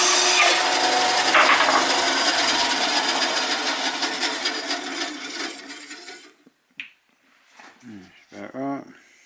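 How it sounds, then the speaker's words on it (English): Wood being sawn to size by hand, with a loud continuous rasping stroke that gradually fades out, followed by a brief clatter and then someone speaking. "Now I'm just going to make the other one the same size as that one."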